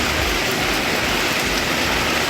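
Steady rain falls around Kovilpatti in Thoothukudi district, a dense, even hiss that stays at the same level throughout, with no voices.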